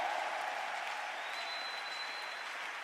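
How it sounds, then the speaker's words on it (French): Church congregation applauding together in a steady, dense wash of clapping that holds at an even level from start to finish, with no voices over it. "Est-ce qu'on peut encore acclamer?"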